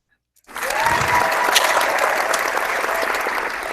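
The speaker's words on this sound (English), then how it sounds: "let me get my Google effects up so I can give these guys a round of applause that they deserve." A canned crowd applause sound effect plays from a phone. After a moment of silence, a full, steady roar of clapping and cheering starts abruptly and holds at an even, loud level.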